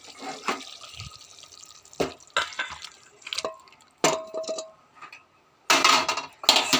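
A pot of curry taken off a kitchen stove, with scattered metallic clanks and scrapes, a few sharp knocks and a louder rattling clatter near the end, close and fairly quiet.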